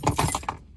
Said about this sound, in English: there goes my keys